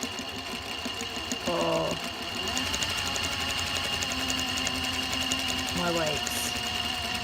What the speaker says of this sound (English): machine stitch along there, creating little pockets